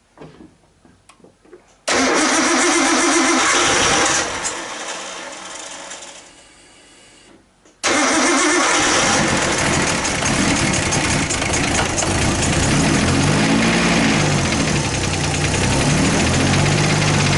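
A Nissan R32 Skyline GTST time attack build engine cranks and fires abruptly, then settles into a loud, steady idle with a rapid ticking knock. It dips briefly and quietens, then revs back to a loud idle.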